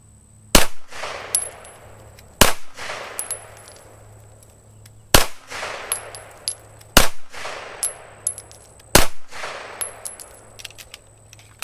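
Five pistol shots from a full-size Smith & Wesson M&P M2.0 with a 5-inch long slide, factory barrel and night sights, fired at an outdoor range. Each sharp, loud crack is spaced a couple of seconds apart, with faint metallic pings and ringing echoes between them.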